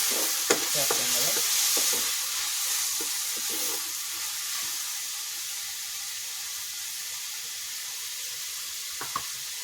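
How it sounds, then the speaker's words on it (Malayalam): Ivy gourd and onion being stirred in a frying pan over a wood-fired stove, a constant hissing sizzle with a few sharp scrapes and knocks of the spoon early on and near the end. "കോവയ്ക്ക് ഉള്ളിയുമായിട്ട് നന്നായിട്ടൊന്ന് ഇളക്കി യോജിപ്പിക്കണം"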